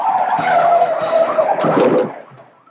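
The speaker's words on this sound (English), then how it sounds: "There's an epic car chase." Tires skidding loudly in a film car chase, a sustained screech with engine roar for about two seconds before fading away.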